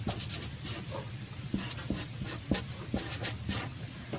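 Pen or pencil scratching on paper while polynomial factors are copied out by hand, a continuous close scribble with short stroke accents over a low room hum, no voices.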